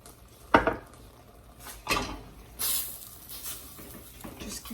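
Turkish tullumba dough stirred in a pot over low heat, with sharp scraping knocks of a utensil against the pot sides at irregular intervals and softer swishing between them, close and alone.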